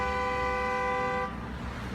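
Car horns honk on a Boston street, a sustained loud toot that cuts off after about a second, leaving the rumble of traffic behind it.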